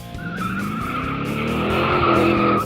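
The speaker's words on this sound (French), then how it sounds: "un cri aigu ou encore un crissement de pneus" A car's tires screech in a sustained, high-pitched squeal, loud and close, with engine rumble beneath and the pitch wavering slightly as the skid continues for a couple of seconds.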